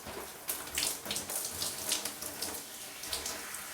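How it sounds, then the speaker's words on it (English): Water splashes and trickles steadily as it is squeezed through wet hair on wash day, close and continuous like a running tap, with no voice over it. "squeezing the water into my hair so that my hair can fully absorb it"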